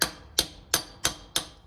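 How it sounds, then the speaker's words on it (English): Five sharp metallic taps, evenly spaced and close up, as a hammer seats a triple square socket on the CV axle of a 1989 Porsche 944 S2. "just give it a couple of taps at the end of your socket just to make sure it's seated properly"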